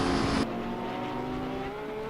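A race car roars past in a Bathurst sim racing game, its engine note held high and steady with a brief louder burst at the start as one car overtakes another, continuous and close with no talk.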